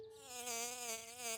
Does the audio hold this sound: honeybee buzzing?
yes